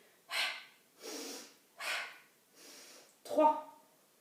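Five forceful breaths out during a Pilates exercise, each a short breathy puff about every three-quarters of a second, close and clear, the last one harder and rougher than the rest.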